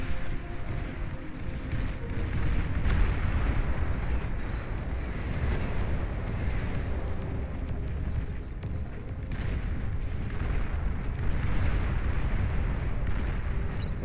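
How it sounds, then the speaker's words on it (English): Kraken rockets exploding in a video game form a dense, continuous roaring rumble of blasts and booms lasting throughout, loud and sustained with no talking. "There's those Kraken rockets."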